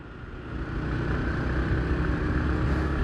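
A Yamaha MT-15 motorcycle engine hums steadily while being ridden, a continuous low drone with wind rush that swells slightly and holds constant throughout.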